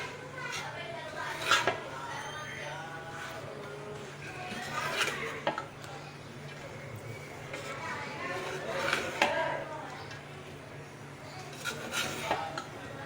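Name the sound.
mixing biryani rice and meat in a pot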